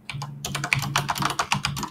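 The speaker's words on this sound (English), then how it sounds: "Well, your keyboard's really loud." A loud computer keyboard clatters with rapid, close keystrokes in quick irregular bursts, sharp clicks piling on top of one another, with no talking over them.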